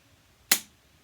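A hyaluron pen firing: a single sharp, close click with a quick decaying tail against near silence.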